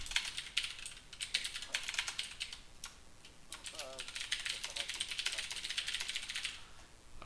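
Rapid typing on a computer keyboard comes in dense bursts of clicky keystrokes with short pauses between them, close and fairly loud, while someone talks quietly over it.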